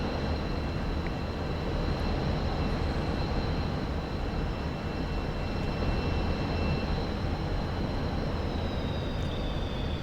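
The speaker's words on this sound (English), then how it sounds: "This will be my first landing in the MiG." A MiG-29 jet in the flight simulator DCS comes in to land, a steady loud broadband engine roar with a faint high whine running unbroken throughout.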